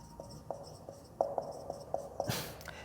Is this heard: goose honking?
no